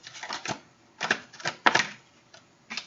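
Tarot cards being drawn from a deck for a love reading: a quick series of crisp snapping, shuffling flicks in irregular clusters, close and clear with no voice over them.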